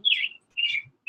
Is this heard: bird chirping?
yes